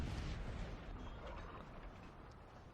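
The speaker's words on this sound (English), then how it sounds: "Down the rest of the battlefield, there's still counter battery fire all along the front" Sustained artillery counter-battery fire rumbles along a Napoleonic battlefield in Napoleon: Total War, the Battle of Waterloo, as a dense, continuous wash of distant booms that gradually tapers off.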